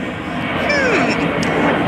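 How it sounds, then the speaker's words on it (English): An airplane passes overhead near an airport, a loud, broad engine roar rising and sweeping in pitch, with a person talking over it. "You can hear the plane going."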